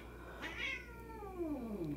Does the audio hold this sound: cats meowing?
yes